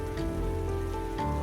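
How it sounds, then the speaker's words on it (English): Soft drizzle falling in a dim forest, a brief even patter of rain on leaves and surfaces, close and gentle, with no voices. "And then, rain. No warning, just a soft drizzle that thickened within minutes, turning the forest dim and dripping."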